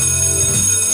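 An alarm bell rings loud and continuous for the whole second, a steady metallic jangle with no pauses and no voices.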